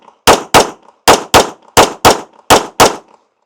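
Eight loud, sharp gunshots ring out during shooting practice, fired in quick pairs with short pauses between each pair, close and with no talking.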